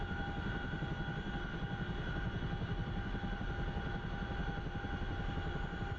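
Boeing CH-47 Chinook twin-rotor helicopter engine in a flight simulator game, a steady loud droning whine with fast rotor pulsing, constant and unbroken with no voices.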